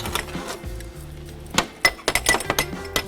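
A glass tube clinks against heavy hollow iron bars in a quick series of sharp, bright taps and knocks, close by, after a few softer handling sounds.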